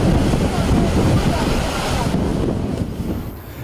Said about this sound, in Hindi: कराची में मुमकिना समंदरी तूफान के बायस लहरी साहिली इलाकों पर घरों में दाखिल हो गई